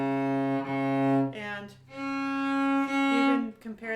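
Cello playing a C sharp in extended position, a sustained bowed tone with clear harmonics, repeated in a few long strokes, with a brief spoken word in the background.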